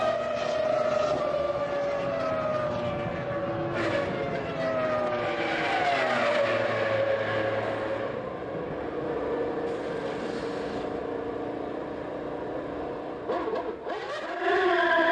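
Formula 1 cars race at Silverstone during the 2000 British Grand Prix, engines howling at high speed along the Hangar Straight into Stowe Corner, a steady loud roar with rising and falling pitch sweeps as cars pass and shift.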